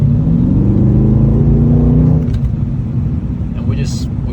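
A Mercedes-AMG C63S engine revs in sport plus mode with a loud, deep, steady exhaust drone that is strongest at first and eases slightly partway through.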